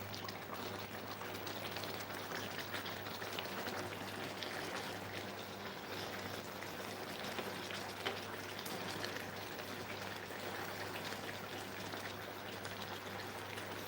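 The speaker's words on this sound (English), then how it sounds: "you leave this to boil" Pot of catfish simmering on a stove, a faint, continuous bubbling wash with a low steady hum beneath, no voices.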